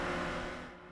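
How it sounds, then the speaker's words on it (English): A Toyota GR Supra sports car held deep in a drift, its engine roaring loud and steady with a broad, sustained rasp that eases slightly toward the end. "This is the sound of a Toyota GR Supra deep in a drift."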